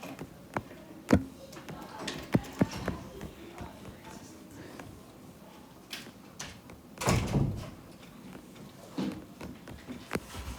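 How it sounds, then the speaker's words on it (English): Classroom door at the back of the room pushed shut, a brief knock-like thud standing out among scattered small clicks, shuffles and room noise during a lesson. "Could you shut the door back there, Keenan?"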